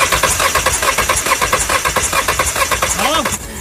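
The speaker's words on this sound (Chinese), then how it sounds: "帮忙打一下火" A car engine that will not start after being refuelled cranks steadily with a fast, even chugging rhythm, loud and close, then spins down at the end without catching; nobody talks over it.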